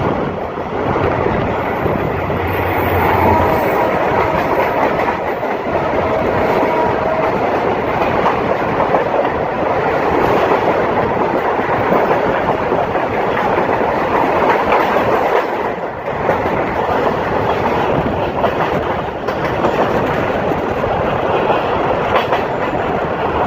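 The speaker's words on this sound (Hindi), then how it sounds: "तो पहली ट्रेन का जो क्रॉस पड़ा हमें वो था सिखर एक्सप्रेस, जो कि जैकमाबाद से कराची के दरमियान चलती हैगी" The Sukkur Express, a Pakistan Railways passenger train running between Jacobabad and Karachi, rumbles past close by with a continuous roar and rhythmic clickety-clack of wheels over rail joints, plus some wind buffeting, lasting over twenty seconds.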